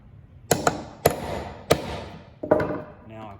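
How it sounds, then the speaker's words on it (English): A hammer strikes a nail set to sink a finish nail into wood, with four sharp close metallic taps spaced roughly half a second to a second apart, the first a quick double hit, each followed by a short ringing decay. "nail set, put it on the head of my nail. Drive that in."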